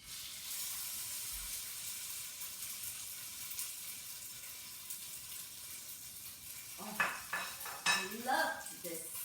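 Pork hitting hot oil in a pan hisses with a steady broadband sizzle for several seconds, then a spatula scrapes and clatters against the pan in a quick burst of stirring near the end.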